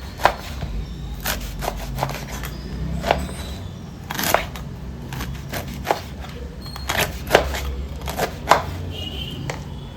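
A knife cuts through breadfruit in a series of irregular, crisp chopping and scraping strokes, close and moderately loud, with faint background hum and occasional soft voice.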